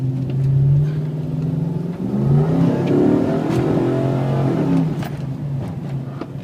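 A lifted 2004 Nissan Titan 4x4 LE truck idles and revs nearby, its engine rising and falling in a loud, steady drone with mid-range whir throughout.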